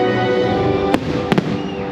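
Fireworks going off outdoors during a night celebration: a few faint, distant pops and crackles sit under a dense, steady crowd or ambient roar.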